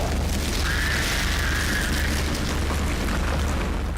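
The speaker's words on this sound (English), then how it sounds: "now you can throw the fire glaive right into the webbing and it'll burn it" A thrown fire glaive burning through webbing in the video game Dark Sector, heard as a steady roaring whoosh of flame with a rising crackling hiss, continuous and moderately loud.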